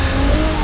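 An Alfa Romeo 75 V6 Quadrifoglio Verde in Forza Horizon 3 gives a short, loud, sustained engine drone with no pauses.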